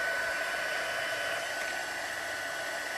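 Hair dryer blowing on freshly applied colour, a steady airy hiss with a faint whine held evenly at moderate volume, no voices.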